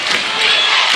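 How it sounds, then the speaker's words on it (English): A loud Dothan high school basketball crowd roars and cheers in a gym, a dense, sustained wall of voices with no single speaker standing out. "Dothan crowd coming alive."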